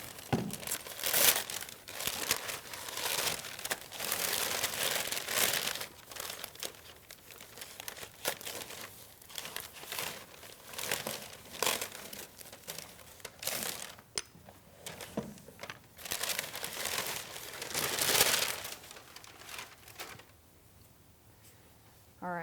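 Plastic packaging wrapped around upholstered shoulder rests for a Pilates studio reformer is cut and pulled open up close, a long run of loud crinkling and tearing bursts that thin out into quieter rustles near the end.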